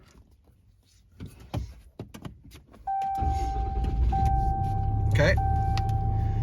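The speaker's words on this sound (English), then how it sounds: "let's go ahead and turn the truck on real quick" A 2022 Ram 3500 Dually with the 6.7 diesel engine is started up: a few clicks and jingling keys, then a loud engine catch with a chime tone, settling into a steady deep diesel idle while a person speaks briefly.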